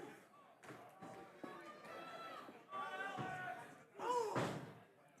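A wrestler's knee lift slams into an opponent's midsection during a pro wrestling match, a short thud landing amid steady crowd noise with a commentator talking throughout.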